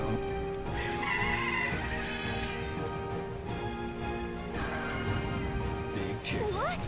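Big chicken in a video game clucking over busy game music and effects, a steady loud mix with a rising squawk near the end.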